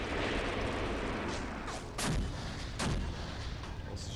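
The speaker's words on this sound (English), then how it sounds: "And I think we can definitely adjust our artillery fire." Artillery fire in the tank-battle video game Graviteam Tactics: Mius-Front, a continuous rumbling barrage with two sharp, heavy blasts standing out midway, dense and booming throughout.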